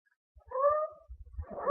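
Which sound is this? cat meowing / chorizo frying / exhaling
cat meowing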